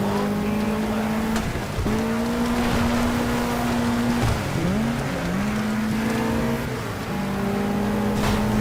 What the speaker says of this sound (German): der Peugeot überholt uns und drängt uns ab